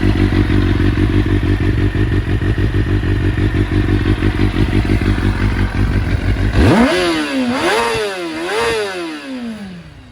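A Kawasaki ZX-6R Ninja J1 from 2000 with an aftermarket exhaust idles with a loud, steady, pulsing rumble, then revs hard several times in rising and falling sweeps, close and loud, with no talking.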